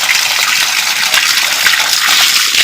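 At a village storage tank with a bathing spot, water gushes loudly and steadily, a close, hissing splash that runs without pause.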